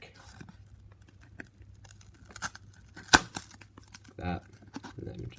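Scissors cutting out a piece of a cardboard box for a homemade camera stand: scattered faint snips, scrapes and crinkles, one sharp loud snap near the middle, and a brief burst of rustling, with quiet voice sounds in between.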